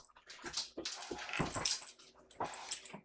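A pet dog named Chonka whimpers and whines softly in short high-pitched bursts between quiet pauses, faint and nearby.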